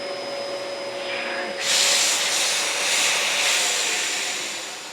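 A refurbished thrifted vacuum cleaner runs on carpet with a steady, loud motor whine and rushing airflow that swells as it moves, close and continuous with no voices.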